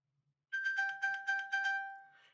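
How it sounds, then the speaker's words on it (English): An iPhone pinged from an Apple Watch rings with a bright, clear chime, five quick repeated tones followed by a fading tail, close and alone in an otherwise quiet room. "this little icon, when you press it, will ring your iPhone"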